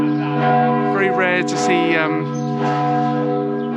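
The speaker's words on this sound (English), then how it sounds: "What a terrific sound the bells are making." Church bells in Celje, Slovenia, chime the midday hour, their sustained, ringing tones layered and echoing while someone talks over them nearby.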